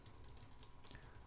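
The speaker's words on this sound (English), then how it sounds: "I can type whatever I want to type." Quick, faint clicking keystrokes patter steadily on a computer keyboard during a WordPress 3.2 editing session, with no talking.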